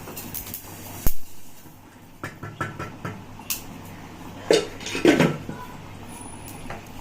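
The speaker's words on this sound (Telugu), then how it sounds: "ఇది దంచుకుంటాను ఫ్రెండ్స్" Spices being pounded for a fish curry, giving a few irregular hard knocks and clatters, with a sharp one early and a cluster of louder hits later, over low kitchen background noise.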